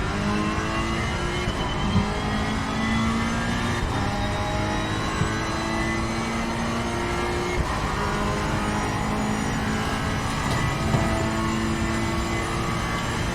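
Race car engine in a sim racing game at Misano, running steadily and loudly throughout with a continuous droning note, the ignition switched off but the motor keeps firing itself back up.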